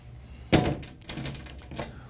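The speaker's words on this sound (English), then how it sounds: "We take our flat silver key, unlock the main ballot bin, open the door, verify that there are no ballots." DS200 ballot machine's main ballot bin door being unlocked with a flat silver key and opened: a sharp close thunk of the lock or latch, then a few softer clicks and a rattle of the door, no talk.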